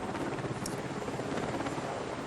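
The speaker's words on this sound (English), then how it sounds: "flotilla of helicopters" A steady, broadband rotor drone from a flotilla of helicopters flying over New York City, a continuous distant rumble with no talk over it.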